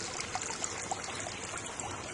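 A creek trickles and streams steadily close by, a soft continuous wash of flowing water with small bright gurgles, no voices over it.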